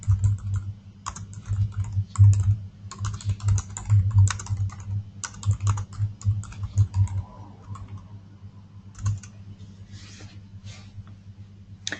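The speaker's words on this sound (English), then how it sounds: "let me just type something to you lovely folks" Steady bursts of typing on a computer keyboard, close and clear, with quick irregular clicks in rapid runs that pause and resume, thinning out toward the end with a few scattered taps.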